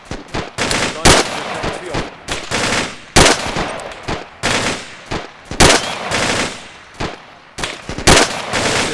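Rapid bursts of rifle and machine-gun fire crack out during a military exercise, sharp loud reports in irregular clusters, close to the microphone with echoing decay between shots.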